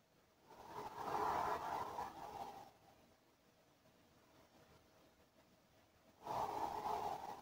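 Two slow, drawn-out exhalations during a sophrology breathing exercise, soft airy breaths of a couple of seconds each separated by a quiet pause, close and gentle.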